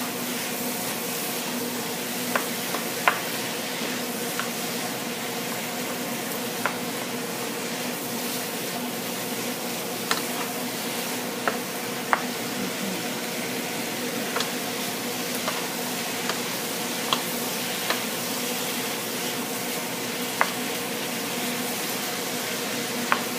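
Hamburger seasoned with salt and pepper frying in a pan for lasagna, a steady soft sizzle with scattered small pops and crackles throughout.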